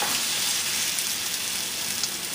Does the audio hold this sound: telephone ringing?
no